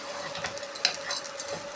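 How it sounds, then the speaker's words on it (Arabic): Pasta rings frying with spices and oil in a pan, stirred with a utensil: a steady sizzle with soft scraping strokes and one light clink, close up, with a kettle of water boiling nearby. "هنقلب المكرونه برضو تقلبتين"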